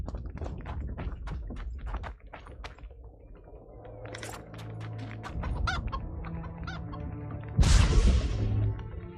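A chicken clucks repeatedly in The Witcher 2: Assassins of Kings, short clipped calls scattered over game sounds, ending with a loud crashing burst.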